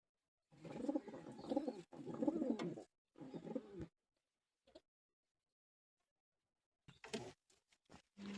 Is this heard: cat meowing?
no